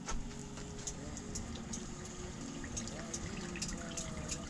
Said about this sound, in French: On va diluer la farine avec de l'eau tiède.